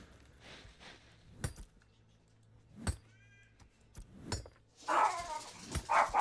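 A house dog barks loudly and agitatedly at a roommate coming out of the bathroom. Several sharp bursts come near the end after quieter knocks and jingles indoors.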